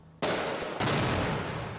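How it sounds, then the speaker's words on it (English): A suicide vest detonates with two abrupt, massive blasts a split second apart, each a broad roaring burst that lingers as a loud rumbling wash of debris. "one of the three assailants detonated a suicide vest"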